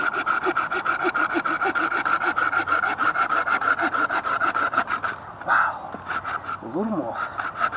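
Hand saw cutting through a hard fatwood knot in hardwood outdoors, with steady rapid rasping strokes that run loud and regular before slowing; someone speaks briefly near the end.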